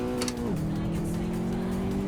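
An underpowered car in the racing game Assetto Corsa drones steadily around the Nordschleife. The engine note drops as the gear shifts, then holds a constant hum, with faint road noise underneath.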